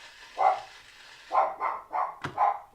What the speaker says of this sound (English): It wouldn't be a keto cooking with Cyndi video if my dog didn't bark while I was cooking.